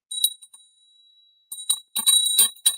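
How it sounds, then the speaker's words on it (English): A bell sounding a high C note, a bright sustained ring with a clear single pitch, struck several times in quick succession, close and loud with silence between the first strikes. "This was a bell that I got in the mail."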